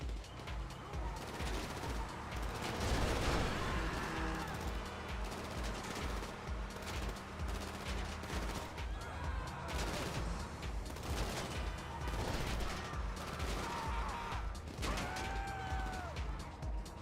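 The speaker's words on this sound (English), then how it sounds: "This dude's just not gonna stop shooting, huh?" Sustained rapid gunfire in a Grand Theft Auto game, dense bursts and crashes running the whole stretch with vehicle noise mixed in, loud and continuous.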